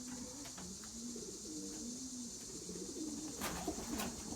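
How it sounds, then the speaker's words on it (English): A pigeon coos in soft, low, rolling warbles, a continuous run of throaty phrases close by, under a steady high background hiss with a couple of faint clicks near the end and no talk. "This is a great pigeon right here."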